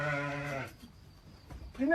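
A sheep bleats in a loud, wavering cry that breaks off partway through, followed by a shorter second call, heard near and on its own.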